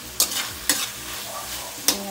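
Bitter gourd (ampalaya) sautés in a pan, with a soft steady sizzle broken by three sharp scraping stirs of a utensil against the pan.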